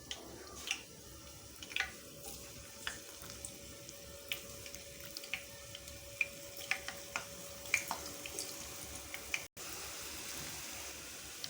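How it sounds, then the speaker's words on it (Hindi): Potato snacks frying in hot oil in a pan, a steady sizzle studded with sharp crackles and pops scattered throughout, close and fairly quiet with no talking. "अब हम इसको ऑयल में डाल के फ्राई करेंगे"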